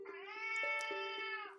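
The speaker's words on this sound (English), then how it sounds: "my cat is in the room and making lots of noise" A pet cat named Shui meows loudly and close by in a room, one long drawn-out yowl with a wavering, strained pitch and no other sounds around it.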